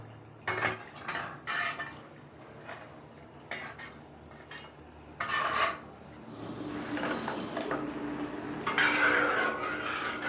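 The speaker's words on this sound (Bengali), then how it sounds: "দেবার পর এইভাবে গুলিয়ে দিতে হবে, দেখতে পাচ্ছেন ডুবিয়ে দিচ্ছি।" Fried malpua being stirred and dunked in sugar syrup in a pot at a fair sweet stall: sharp metal scrapes and clinks of a utensil against the pan, then a soft bubbling, sizzling wash toward the end.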